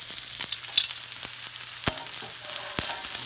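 Steak sears in a hot pan with a steady, close sizzle and frying crackle, with a few sharp pops and clicks over the constant hiss.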